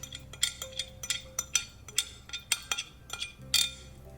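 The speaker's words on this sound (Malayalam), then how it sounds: "എന്നിട്ടിത് നന്നായിട്ടൊന്ന് മിക്സാക്കി കൊടുക്കുക" A spoon clinks against a pan while stirring cashew powder into a kaju katli mixture over low flame, producing a steady run of light metallic taps and scrapes roughly every quarter second, close and fairly quiet.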